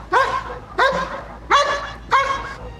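Elite protection K9 barking at a decoy: four loud, close, evenly spaced barks in quick succession, each sharp and full-throated with no talk.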